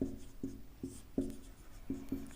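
A teacher writes on a classroom board with a marker during a lesson on income tax, giving a series of about six distinct short taps and strokes with pauses between them.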